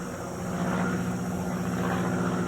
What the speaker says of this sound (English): There's a prop plane flying above overhead.